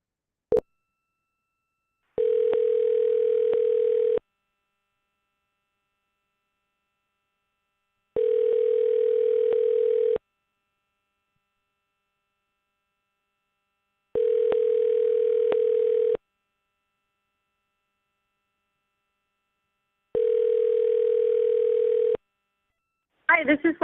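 Ringback tone on an outgoing phone call, four evenly spaced two-second rings separated by long silences, clear and steady, with a click at the start and the answer cutting in at the end.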